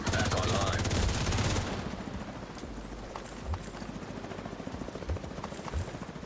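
A helicopter in a shooter video game, rotor chop steady beneath a burst of heavy automatic gunfire that cuts off early, followed by scattered distant shots and thumps.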